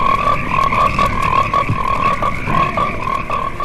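A dense chorus of frogs croaking in a loud, continuous pulsing drone, many calls overlapping rhythmically for a movie trailer, with no speech.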